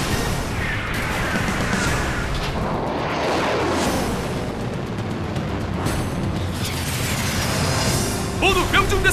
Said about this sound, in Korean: 요격 미사일 발사! 발사!